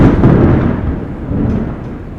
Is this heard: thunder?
yes